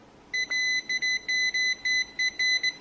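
Multimeter beeping while probing a motherboard capacitor for a short, a series of quick, clear, high electronic beeps in an uneven stuttering rhythm as the probes make and break contact, with no talking.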